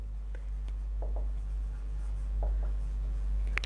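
Soft scratchy writing strokes on paper or a board, faint and intermittent over a steady low hum, with short bursts of pen or chalk movement.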